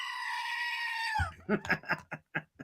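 A goat lets out one long, wavering bleat that tails off, followed by a few seconds of a person speaking.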